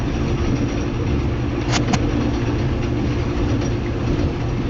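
Custom roller coaster chain hill audio taken from the Wizard coaster, heard in a Planet Coaster 2 park: a loud, steady mechanical rumble with continuous rattling clatter, unbroken from start to finish.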